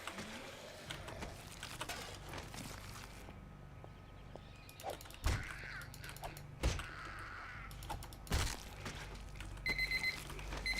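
A timer alarm goes off in the zombie survival game 7 Days to Die, with several sharp mechanical clicks and bursts rising over a busy game background, followed by higher ringing tones toward the end.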